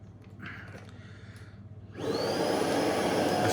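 A Tineco Pure One X cordless vacuum hums at a low idle, then surges into a loud, steady high-pitched whine with a rising tone for filter cleaning, heard close and with no talk.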